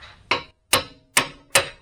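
A cold chisel struck by a hammer while cutting a part on a Nissan Z32 300ZX twin turbo: four sharp metallic blows, evenly spaced about every 0.4 seconds, close and loud with short ringing decays.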